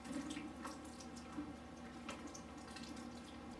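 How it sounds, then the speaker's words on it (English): Coolant drains from a KTM 300 XC motorcycle engine in a steady trickling splash, faint and continuous with small drip-like accents. "now that we've got most of the coolant out of the motor"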